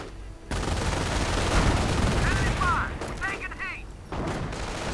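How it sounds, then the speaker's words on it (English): Machine-gun fire from grenadiers rakes a bunker in a WWII strategy game, a dense loud rattle of rapid bursts with distant booms, radio-style chatter and whistling effects partway through, then a short pause before the firing resumes. "The reducer grenadiers adding in some MG fire to the bunker"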